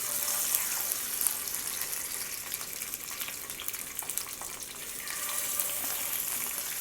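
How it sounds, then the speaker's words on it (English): Stuffed squid sizzles steadily in hot oil in a pan, a loud, even crackling hiss with small pops that runs throughout without speech, Mangalorean style. "now I'm going to pan fry it"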